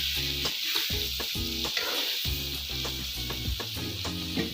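Radish and chickpea curry sizzles loudly in a hot pan in a village kitchen, a steady close frying hiss broken by stirring scrapes, with no voices over it.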